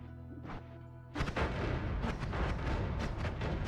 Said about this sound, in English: Those are some big booms,